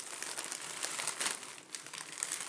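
Plastic wrap rustles and crinkles as it is stripped off tubes of artist's paint, a continuous close, soft crackling with small sharp snaps and no voices.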